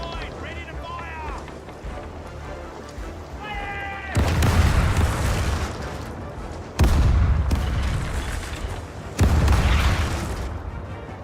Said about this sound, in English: Left side, ready to fire!